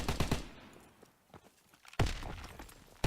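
An FG42 in a video game fires rapid bursts of gunfire, one burst at the start and another at the two-second mark, with quieter shots and rattles in between.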